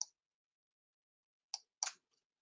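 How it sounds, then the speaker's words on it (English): Computer mouse clicks, three short crisp taps, one at the start and two close together near the end, with near silence between them. "Okay, I'm right clicking."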